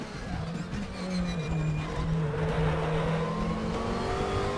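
A McLaren MP4-12C engine revs hard on a Nordschleife lap in a racing sim. One continuous close drone climbs steadily in pitch through the gears, with a tonal whine above it and no speech.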